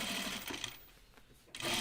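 A sewing machine top stitches an anorak seam in a brief, rapid buzzing run that slows, pauses and then starts again at the end, heard up close.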